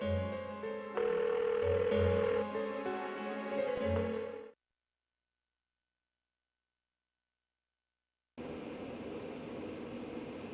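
A phone call rings unanswered in the Persona 4 video game as a loud, steady tone for about four seconds, then silence, then a lower continuous hum resumes. No one speaks.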